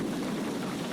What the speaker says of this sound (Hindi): भयंकर वर्षा शुरू हो गई।